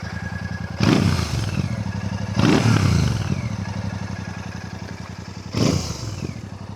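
A Royal Enfield Classic 650 motorcycle passes on a UK road, its parallel-twin engine thrumming steadily with three loud revving surges that swell and fade.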